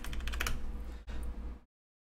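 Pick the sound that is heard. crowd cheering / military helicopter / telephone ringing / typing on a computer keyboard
typing on a computer keyboard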